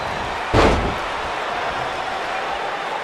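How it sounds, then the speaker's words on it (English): A wrestler's body slams down onto the mat in WWE 2K19, one sharp heavy thud over a steady arena crowd roar. "And her whole body comes slamming down."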